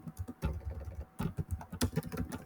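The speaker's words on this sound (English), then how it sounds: "just randomly I'm typing something" Fingers tap out text on a computer keyboard in a quiet room, a close, irregular run of soft key clicks with a short pause partway through, no voices over it.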